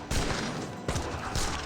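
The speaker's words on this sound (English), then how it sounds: "Flame arrows find a massive hit there" Flame arrows striking in Age of Empires 3, a dense, loud rattling volley of impacts with a second burst midway, like massed gunfire in a battle.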